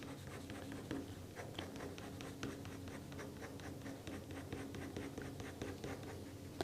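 Pen strokes scratching across paper while ink-sketching a building, a steady run of short scratchy marks in quick irregular rhythm, close and fairly quiet with no talking.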